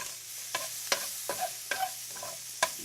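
Garlic frying in a pan with a soft sizzle underneath as a spoon stirs it, giving repeated sharp scrapes and clicks every half second or so, close up, no voices.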